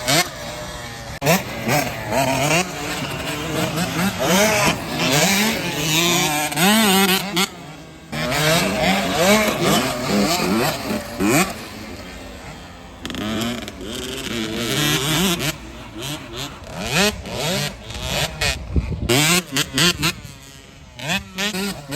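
65cc motocross bikes on a dry dirt track, their high-pitched two-stroke engines revving and shifting up and down as they pass close by, loud and nearly continuous with brief drops between passes.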